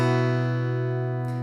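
An acoustic guitar chord for a song, fretted at the 4th fret with the two bottom strings left open, strummed once and ringing out bright and sustained up close.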